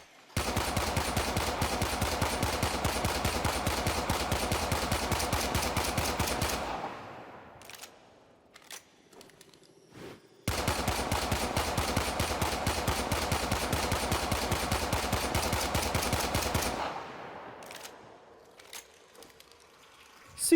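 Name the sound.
pistol gunfire in the video game Warframe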